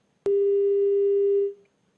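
A single sustained telephone busy tone after a cut-off call, steady and loud for about a second and a quarter before it stops abruptly, with no talk around it.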